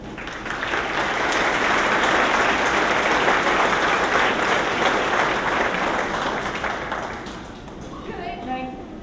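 Sustained applause from a commencement ceremony audience welcoming a speaker, a dense steady roar of many clapping hands that holds for about seven seconds, then tapers off as a few voices come through at the end.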